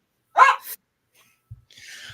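A pet dog barks close by indoors, a single sharp bark followed by a second shorter one, then quiet with a few faint thumps and a soft hiss.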